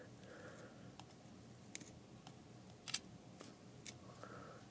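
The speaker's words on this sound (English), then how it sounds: "So I'm going to take that one and cut it just past the root" Several crisp snips of scissors cutting a succulent stem just past the root, sharp isolated clicks spaced about a second apart, close and quiet against a soft background.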